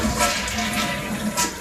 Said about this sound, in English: if you simply replace the flapper right here with one of those water saving ones, when you flush it, it looks like this